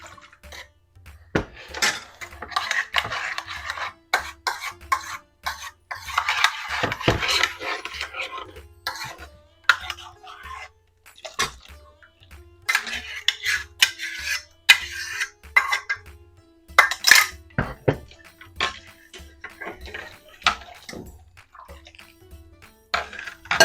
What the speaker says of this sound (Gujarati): આને આપણે કન્ટિન્યુઅસલી હલાવવાનું છે, થોડું એવું ઘટ થાય ત્યાં સુધી.